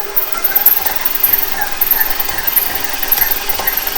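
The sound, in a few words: electric mixer mixing butter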